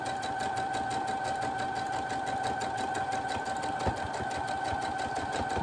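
Sewing machine stitching through a fabric drawing book for children, a steady close mechanical whir with rapid needle ticks running continuously without pause.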